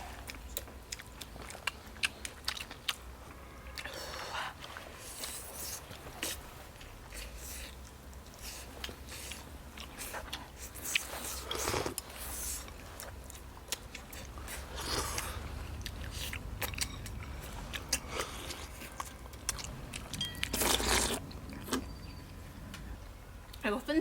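Close biting and chewing of soft, tender steamed chicken wings coated in rice flour, with wet mouth sounds and occasional crunches repeating irregularly over a long stretch, mixed with bits of talk.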